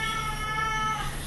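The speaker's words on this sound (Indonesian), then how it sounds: "masih ada kucing di sini dan kucingnya masih ribut" A restless cat meows in a steady, sustained tone indoors at a salon, fairly loud and close, with no speech over it.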